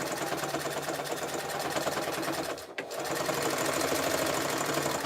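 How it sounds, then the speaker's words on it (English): A sewing machine runs steadily, stitching fabric strips for a jelly roll rug, with a continuous close motor whir and rapid needle rhythm that pauses briefly near the middle before resuming. "We're going to sew the strips, and I always sew on the edge of the strip itself"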